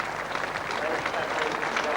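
Crowd applause for batsman John Bracewell at a Test cricket match at Trent Bridge, a steady broad wash of clapping throughout with some voices mixed in.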